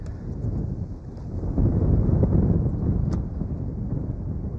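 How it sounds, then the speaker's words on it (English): A stiff wind buffets a fishing boat out on the water, producing a continuous low, rumbling roar of gusts against the microphone that swells in the middle and stays loud throughout, with no talking. "That wind is just really stiff out here."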